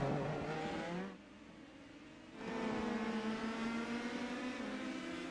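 Indy Pro 2000 race cars scream around the Long Beach street circuit in the iRacing sim, engines droning at high revs, dipping briefly as cars pass before the whine climbs back up, moderately near and steady.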